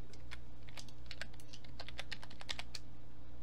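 Rapid, uneven keystrokes on a computer keyboard, close and crisp, alone against a low steady room hum.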